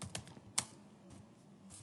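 A computer keyboard is typed at close range in short irregular bursts of key clicks, with one sharper louder keystroke and brief pauses between runs.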